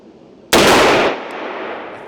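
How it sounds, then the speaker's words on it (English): A single loud, sharp report from a Smith & Wesson 1854 .44 lever-action rifle at a shooting range, with a long ringing decay fading into the surroundings. "When I'm at the range shooting a 44 lever action, I will not complain."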